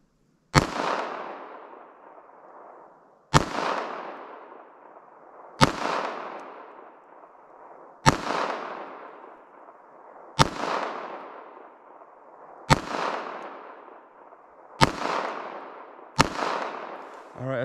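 Pistol shots from a Smith & Wesson M&P Shield EZ .380 ACP fired outdoors in snow, eight sharp, loud reports spaced about two to three seconds apart, each followed by a long fading echo.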